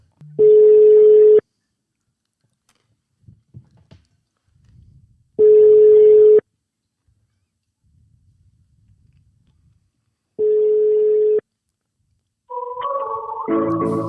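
Ringback tones on a telephone calling a hotel room repeat as three evenly spaced beeps about a second long, with quiet gaps between them, before a recorded-sounding tone and voice begin at the end.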